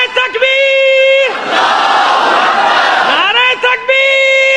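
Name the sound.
crowd shouting response to religious slogan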